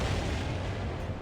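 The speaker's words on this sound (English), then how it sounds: "Hit by the ballistic turrets." Ballistic turret hits land in the space game Freelancer, a quick cluster of dull impacts and rumbling bursts, loud and close, with no talking.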